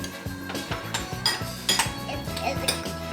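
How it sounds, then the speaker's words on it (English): Metal utensils clink and scrape against a bowl while bibimbap is mixed at a home cooking experience in Seoul, a steady run of close, bright taps and rattles with a busy background murmur. "Mixing up my bibimbap."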